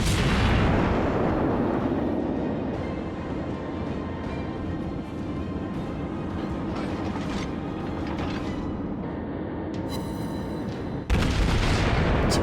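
Warship gunfire in World of Warships: a heavy, booming salvo opens, followed by a long rumbling rolling roar, then a sharp new blast near the end.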